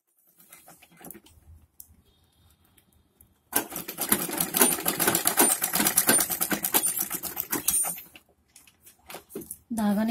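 A sewing machine stitches a Patiyala salwar in a fast, dense run of needle clatter lasting about four seconds. It follows a quiet stretch with faint handling sounds, and someone talks before and after it.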